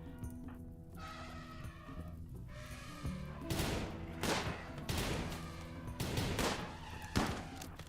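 Chain shotgun blasts from a space-western video game, coming as several loud, sharp bursts in the second half, each ringing out over an ongoing bed of game music and ambience.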